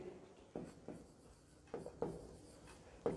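Chalk or marker strokes on a board during an electrochemistry lecture, a series of short scratchy scrapes in separate bursts with pauses between, fairly close and clear with no talking.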